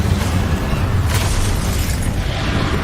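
An Incendio fire spell goes off in Hogwarts Legacy, a loud booming blast with a crackling burst partway through, rolling on without pause and with no voices.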